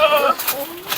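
A sturdy goat bleating briefly at close range, a short wavering cry with a rising drawn-out tail, amid farm surroundings.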